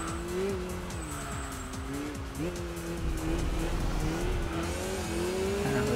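In the video game Enthusia, a race car's engine drones steadily as its tyres skid and grind over gravel, with a continuous rough scraping under the motor.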